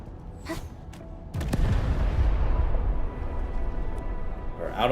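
Bombs explode in the video game Arknights Endfield: a sudden heavy blast kicks in partway through and rolls on as a dense, rumbling roar for a couple of seconds before easing off, with a few sharp clicks before it.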